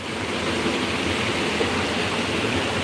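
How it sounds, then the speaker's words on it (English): Water flowing in a stream where people are wading: a loud, continuous broadband rush with no breaks, close and filling the whole scene. "I love the sound of water"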